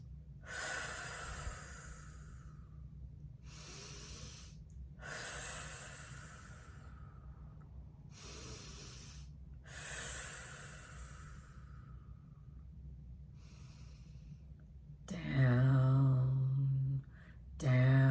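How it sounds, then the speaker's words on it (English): Three deep breaths drawn and released slowly during a relaxation exercise, each long inhale and exhale separated by pauses, close and quiet, ending with a soft voiced sound. "3 deep breaths and saying down, down, down"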